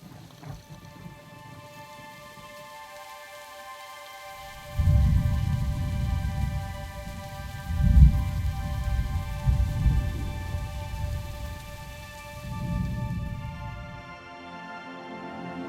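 Steady rain hisses throughout a Minecraft thunderstorm in the Tasmanian countryside, while low, rolling rumbles of thunder swell in and fade several times, loud and close, with no voices.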